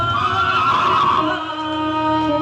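A horse neighing sound effect: a loud, close whinny with a wavering, descending pitch that holds for about two seconds, alone and without talk.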